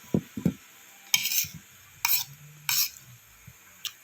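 Utensil stirring pork in a pan for dinuguan, a few scraping clinks and soft knocks in separate bursts with quiet gaps, close and fairly faint, no talking.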